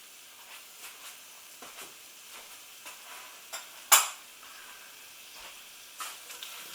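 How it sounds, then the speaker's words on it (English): Tomato paste with green and black olives frying in a pan for a vegetarian puttanesca-style sauce, a faint steady sizzle with soft stirring scrapes and one brief sharper hiss partway through. "We're just cooking this tomato paste off. Let's add the olives."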